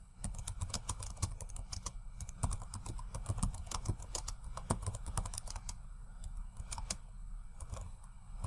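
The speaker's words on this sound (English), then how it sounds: "I can simply type that into the search bar" Rapid, steady typing of a search query on a computer keyboard, close and clear with irregular clicky keystrokes throughout and no talking.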